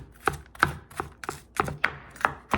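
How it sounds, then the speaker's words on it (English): A kitchen knife finely mincing garlic on a cutting board: about eight crisp, close chops at an uneven quick rhythm, with no talk. "just some chops back and forth to get these pieces tiny"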